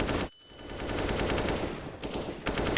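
Counter-Strike: Global Offensive match on Vertigo with grenades, molotovs, smokes and flashes thrown, heard as a dense, continuous roar of overlapping gunfire and explosions that drops out briefly twice before resuming.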